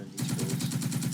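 Rapid automatic gunfire from the Second Front video game, with quick evenly spaced bursts rattling continuously and loudly.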